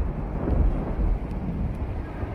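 A strong storm sound effect with heavy wind roar and a low rumble of thunder, dense and continuous, loud and close, with no voices.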